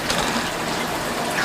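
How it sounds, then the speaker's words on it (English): Krill dumped into aquarium water makes a loud, steady gush and splash that runs without a break for the whole moment. "I'm gonna go ahead and dump the krill in here"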